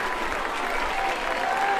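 Crowd at a Keller Indians high school baseball state semifinal clapping and cheering, a steady dense wash of applause from the stands, with a faint voice underneath.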